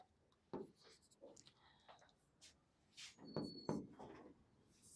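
Chalk or marker scratching on a board during a maths lecture, quiet irregular strokes and taps with brief pauses, no speech over it.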